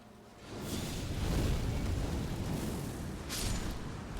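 A fiery attack in Elden Ring roars and burns, a loud, sustained rumbling blaze that swells after a quiet start, with a whooshing flare near the end.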